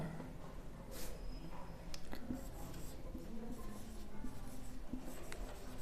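Marker or chalk scratches steadily across a board while a math problem on Bessel's interpolation formula is worked out, a close, continuous scraping with short strokes and taps and no talk over it.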